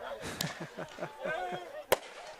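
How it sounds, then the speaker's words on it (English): Fireworks burst at one end of a soccer pitch during a UPSL Division 1 championship match, with two sharp bangs, the second louder and closer, over steady crowd and voice murmur. "fireworks are now going off on one end of the pitch"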